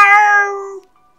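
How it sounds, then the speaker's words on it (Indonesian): A cat in a kitchen gives a single close, loud meow that trails off within a second into silence, with no other sound around it. "Terdengar suara kucing mengeong dari arah dapur."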